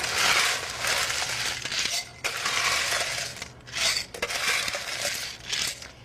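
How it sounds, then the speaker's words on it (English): Ice cubes tumble into a cocktail shaker in several bursts of clinking, rattling crunches, close and fairly loud with short pauses between scoops. "So I have a shaker that I'm going to fill with ice"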